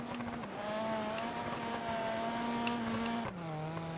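A rally car in a racing game, its engine holding a steady loud drone with a few shifts in pitch and a sudden gear change near the end.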